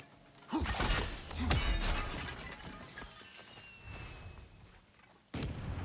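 Flares fired one after another in the game God of War Ragnarök, sharp bursts and cracks with a long whistling trail, loud and close, ending in a sudden new burst.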